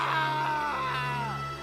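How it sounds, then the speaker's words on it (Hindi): Strange, eerie screaming effect that echoes and wavers, a drawn-out tonal wail over a steady low hum, fading slightly at the end. "हवा में एक अजीब सी चीखने की आवाज गूंजने लगी"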